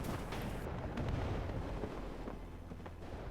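Distant tank cannon fire and battle noise in WARNO, with a heavy rumbling wash of booms and scattered sharp cracks, continuous and fairly faint.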